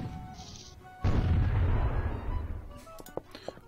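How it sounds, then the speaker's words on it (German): A single loud, booming cannon shot in Imperialism 2, with a long rumbling tail and a few smaller crackles after it. "Können wir noch einen Schuss abgeben?"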